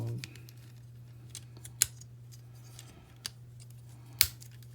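Plastic parts of a Dark Commander Aoyi Mech Chefatron toy folding out, heard as three sharp isolated clicks spaced over a steady low hum, close and fairly quiet.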